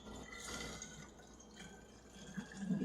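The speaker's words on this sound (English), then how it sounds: "So we're just going to fill this up." Homemade kombucha is poured into a bottle, a soft continuous liquid trickle with faint gurgling and fizzing that rises slightly toward the end as the bottle fills, heard alone.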